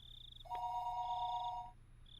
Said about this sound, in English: the phone began to ring again